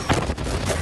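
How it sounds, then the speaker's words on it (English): Beirut port explosion in Lebanon's capital, heard in news footage: a loud, dense roar with a sharp burst near the start, followed by continuous rumbling blast noise with no clear gaps. "that is such a big explosion"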